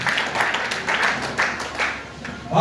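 A church congregation claps and applauds in bursts, a dense rattle of hands rising and falling, with a voice speaking over the clapping near the end.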